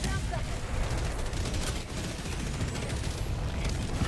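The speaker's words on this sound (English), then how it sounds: "Warning, you are in range of enemy artillery." Enemy artillery fire in Helldivers 2, a dense continuous roar of booming blasts and rumbling gunfire that fills the whole moment at high intensity.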